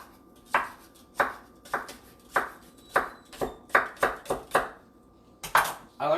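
A knife chops Egyptian walking onions on a board in about a dozen sharp, irregular knocks spread over several seconds, close and distinct against a quiet background.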